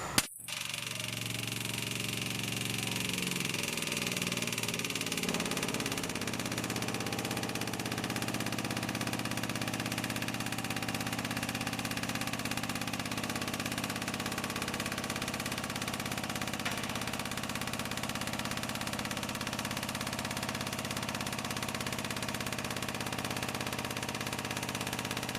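Hydraulic pump of a four post vehicle hoist lifting a car. It opens with a sharp click, then the motor hums steadily and loudly for the rest of the clip, alone and with no talking.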